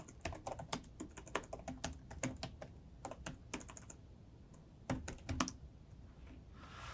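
Computer keyboard tapping out a command, fast bursts of crisp keystrokes with short pauses, ending in a few harder strikes like an enter press, close and quiet with no talk.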